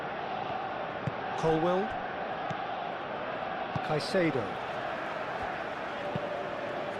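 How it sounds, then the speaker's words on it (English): Broad, steady stadium crowd roar in a PES 21 football video game match, a dense constant wash under a commentator naming players. "the crowd are reacting to that now"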